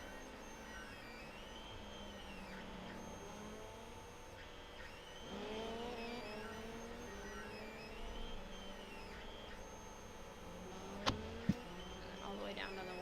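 Volkswagen rallycross car driven flat out around the Tsukuba circuit, a steady loud engine drone rising and falling through the gears, with a couple of sharp clacks near the end.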